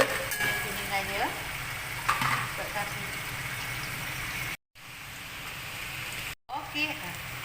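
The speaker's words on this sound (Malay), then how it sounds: "Udang kering. Masak sampai kuningan dia." Dried shrimp sizzles and fries steadily in a pan until golden, a continuous close crackle with occasional stirring scrapes and two brief dropouts.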